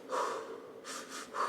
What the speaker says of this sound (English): really focusing on your breathing